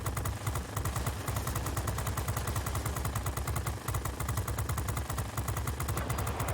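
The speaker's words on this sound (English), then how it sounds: "I get into a position where I can come from underneath the bomber and shoot at its softer underparts" Rapid machine-gun bursts rattle steadily at a bomber's underside in a flight combat game, with a continuous engine drone beneath the repeated fire.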